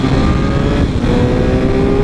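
A 2012 Suzuki GSX-R 1000 motorcycle, 1000cc, being ridden, its engine humming loud and steady up close with a continuous droning tone and a brief dip midway.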